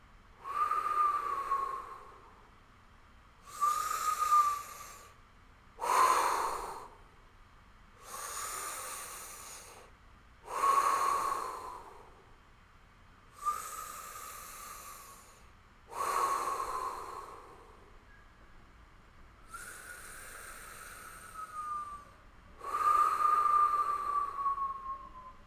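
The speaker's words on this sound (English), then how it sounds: "And then exhale through the puckered lips, bringing the navel point in towards the spine" Slow, deep breaths drawn in and pushed out through puckered lips during a whistling breathing meditation, each breath a soft whistling rush. About nine swells come at a steady pace, close and alone.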